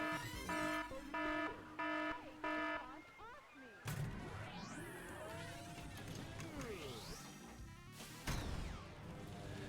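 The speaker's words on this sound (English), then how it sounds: "that is just our alarm letting us know that we only have 10 minutes remaining" A tournament alarm at a Pinball FX3 charity gaming stream signals ten minutes remaining with a few loud, evenly spaced electronic beeps. Busy digital pinball game sounds, sweeps and crashes follow.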